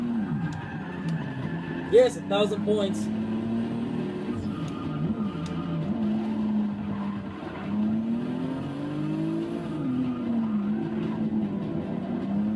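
A Porsche in Forza 6 drifts with engine roaring and tires squealing in long wavering sweeps, loud and continuous, while a person talks over it.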